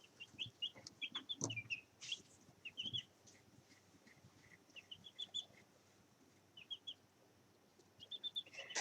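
Chickens cluck and chirp in short bursts and scattered calls, fairly faint and somewhat distant, with an occasional louder squawk among the flock.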